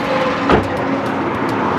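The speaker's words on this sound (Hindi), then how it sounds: "इसलिए गाड़ी में ट्रैवल करते हुए थोड़ी सी नॉइज आपको सुनाई पड़ रही होगी" Steady road rumble and engine hum fill a car cabin while driving through Delhi streets, constant and fairly loud with a brief swell partway through.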